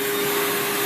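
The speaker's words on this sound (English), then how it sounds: "we use a protein backpack vacuum," A backpack vacuum cleaner with HEPA filtration runs close and loud during house cleaning, a steady unbroken whine with a strong sustained motor tone and airy rush of suction.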